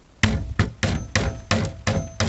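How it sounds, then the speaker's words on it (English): Seven sharp, evenly spaced hammer blows drive a T-nut into a wooden driver bit and bullet organizer, each strike a loud close knock with a short ring and no talking. "We're going to take our hammer"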